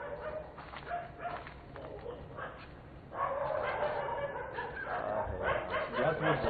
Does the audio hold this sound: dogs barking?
yes